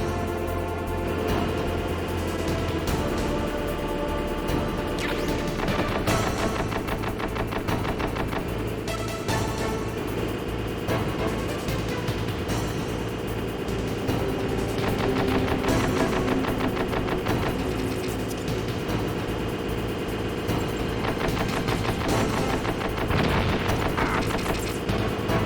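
Grenade blasts and booms in the PS1 game Metal Gear Solid, a long, dense stretch of repeated explosions and gunfire-like bangs over constant game sound, loud and sustained.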